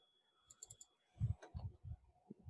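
Mouse clicks on a computer during software setup: a quick cluster of light, sharp clicks, then several duller taps and knocks spaced irregularly, close and quiet in an otherwise silent room.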